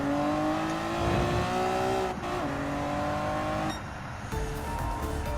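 Honda NSX Type R racing in Gran Turismo 7, an engine whining up through the revs, dropping at each gear shift and climbing again, loud and steady with no talk.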